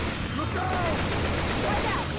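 Gunfire in the zombie shooter Left 4 Dead 2, a steady dense rattle of shots filling the whole moment, loud and continuous over a low rumble, with a voice faintly present underneath.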